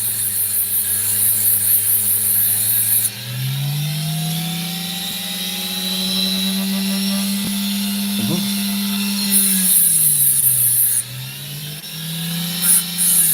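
An opal is faced down on a lapidary grinding wheel, a steady loud motor whine with a pitch that rises and dips as the stone presses against the wheel, along with a high hiss of water spray.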